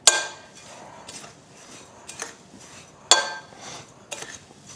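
A spoon stirs oatmeal cup ingredients of oats, flour and brown sugar in a cup, with a few sharp clinks against the container separated by softer scraping and shuffling, fairly quiet with no voices.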